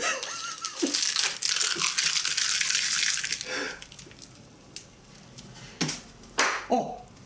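Crumpled sticky tape crinkles and rustles in close-up handling, a dense crackling stretch fading after a few seconds into sparse separate crinkles and taps.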